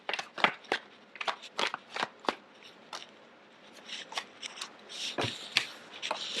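Tarot cards shuffled by hand in a quiet room, a run of crisp riffling and slapping bursts in irregular rhythm, close and moderately loud, with no talk.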